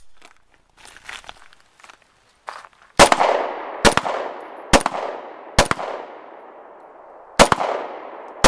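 An Israeli police-issue Jericho 941 pistol fired five or six times, each crisp, loud report ringing out with a short echoing tail, spaced irregularly about a second apart after some quiet handling noises.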